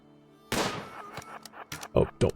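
Gunfire in the RimWorld video game: a loud burst of shots opens the clip, followed by scattered further sharp reports, with a voice speaking over the later shots.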